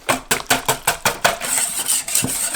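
A utensil stirring cocoa powder into cake batter in a bowl, giving about seven sharp rhythmic scraping clacks against the bowl, then softer, quicker scraping, close and alone.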